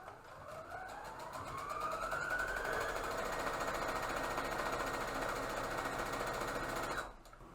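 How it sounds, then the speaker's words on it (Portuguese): A sewing machine stitches elastic for a fabric face mask, its motor whining up in pitch, then whirring steadily at close range for several seconds before stopping abruptly. "Vou costurar aqui um pé de máquina"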